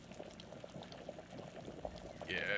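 Water boils in a pot of cabbage being cooked in the Vein video game, a low bubbling simmer with soft pops that swells into a louder hiss near the end, no voices.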